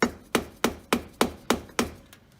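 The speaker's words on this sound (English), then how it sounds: "very carefully getting a small, thin-bladed screwdriver in between the cover and the differential" Thin-bladed screwdriver prying and tapping at the rear differential cover of a Dana 35 axle on a 1997 Jeep Wrangler: seven sharp, evenly spaced metallic knocks, close and fairly loud, fading at the end.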